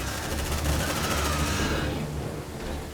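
Plasma cannon fire against aliens in Aliens: Dark Descent, a loud sustained barrage of rapid shots that thins out toward the end of the clip.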